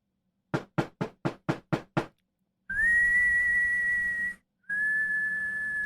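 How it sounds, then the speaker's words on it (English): Seven sharp, evenly spaced knocks on a front door, then a steady high whistle-like tone in two long stretches separated by a short gap, crisp and close. "he'll come and he'll knock on your front door"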